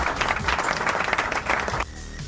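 A canned cheer effect played from a V8 sound card: bursts of clapping mixed with shouting and whoops, fairly loud, cutting off abruptly after about two seconds into quieter background sound.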